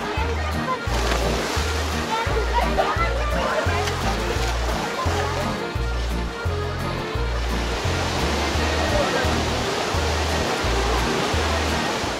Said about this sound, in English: It's called the Eisbach wave, and it is a little portion of white water that comes rushing from the bridge.